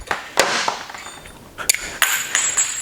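Metal lug fittings for a sandblasting air hose clink and ping as they are handled, a string of bright, close metallic taps scattered at an uneven rhythm with brief ringing tails.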